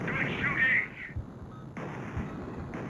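Gunfire in a 3DO video game sounds from game audio: a dense burst of shots followed by a couple of heavier booms, mixed with background game sound.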